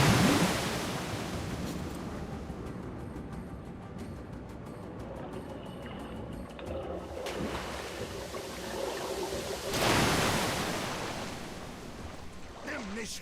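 Rushing river water in the Metro Last Light Redux video game, a steady broadband roar that swells loudly near the end, with voices talking over parts of it.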